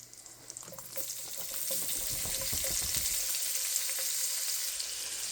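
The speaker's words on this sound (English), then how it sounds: "we will add the ham slices" Ham slices sizzle in a frying pan with bacon and sausage, a steady loud crackle and hiss that builds after the first second and holds, with a few soft clinks of a utensil.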